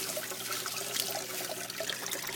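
Water trickling and splashing steadily as it flows back into a fish tank system, a faint continuous gurgling pour with no one talking.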